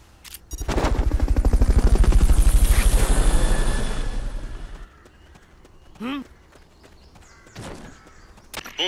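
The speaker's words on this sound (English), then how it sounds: "Fulton recovery subject confirmed onboard helicopter." Helicopter in the Metal Gear Solid: Peace Walker video game, a loud, fast rhythmic rotor chop that swells and then cuts off, followed by quieter game effects and brief calls.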